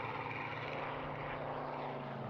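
A restored propeller aircraft with a very big engine on a very small airframe drones steadily overhead, a continuous engine roar at moderate distance with no voices.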